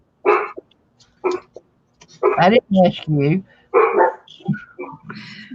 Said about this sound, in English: Sorry, there goes my dogs.